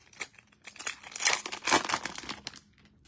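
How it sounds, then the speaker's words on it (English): Foil wrappers of Upper Deck hockey card packs tear and crinkle up close, a run of bursty rips and crackles building through the middle, then fading into quiet at the end. "And here I am opening up a load of cards"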